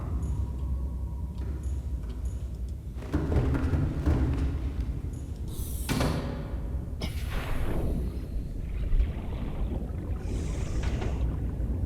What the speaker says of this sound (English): Engine powering down.